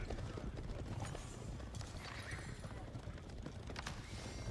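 Cavalry horses in an Age of Empires match, their hooves clip-clopping steadily with whinnies breaking through, all set against dense, busy game noise with no voice over it.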